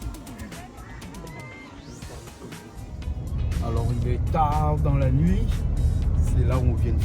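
A freshly repaired car's engine starts up at night in Madagascar. Its low rumble swells and holds steady in the second half, with voices and bird calls over it.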